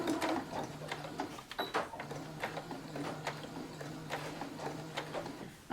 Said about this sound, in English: we're going to do a few stitch forward, few stitch backward to lock it in place